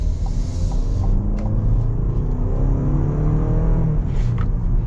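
Buick Envision Avenir luxury SUV pulling away, a steady low engine rumble and road drone with gentle acceleration, continuous and close from inside the cabin.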